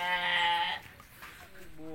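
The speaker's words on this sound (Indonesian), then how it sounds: "Kambing." Goat bleating outdoors near mangosteen and clove trees, one long, nasal, wavering bleat up close, then a quieter stretch before a second bleat starts.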